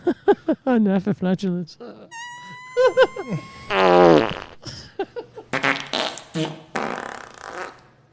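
A fart sound heard during a live chat, with short rasping bursts, a squeaky tonal stretch and noisy blasts mixed among speech-like sounds and other voices across the clip.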